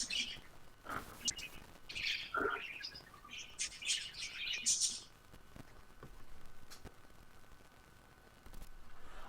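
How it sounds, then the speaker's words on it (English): Birds tweet and chirp in scattered clusters over a steady low hum, fairly faint and distant, thinning out after the first few seconds with a few sharp clicks. "You got some birds."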